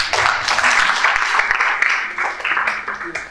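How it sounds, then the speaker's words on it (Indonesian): Audience applause at a campus lecture on law, a dense steady clapping wash from a crowd that carries on without a break and fades slightly near the end. "Kasih aplaus dulu"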